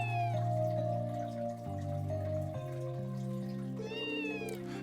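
A cat meowing in the video game The Legend of Heroes: Trails from Zero, a few short meows heard over continuous in-game background music that stays steady throughout.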